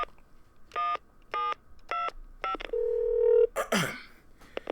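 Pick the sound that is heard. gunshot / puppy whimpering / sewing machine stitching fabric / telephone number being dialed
telephone number being dialed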